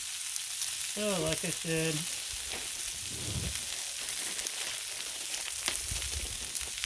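Sweet corn sizzles in bacon grease on a Blackstone griddle, a continuous crackling fry with occasional pops, while a person speaks briefly early on.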